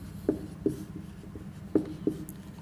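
Chalk or marker strokes on a board during a chemistry class, four short distinct scratches at uneven intervals over a faint background hum.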